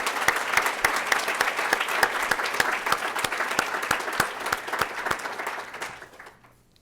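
At a university business school lecture hall, an audience claps to welcome visitors from Bangladesh. The clapping is moderately loud with distinct individual claps, keeps a steady pace for about six seconds, then fades out.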